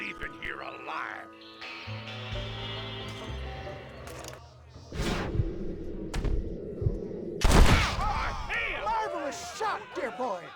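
Gunfire in a Red Dead Redemption shootout: sharp broadband shots stand out among game music and ambience, with a loud burst near the middle and further reports trailing after, while voices talk over the mix.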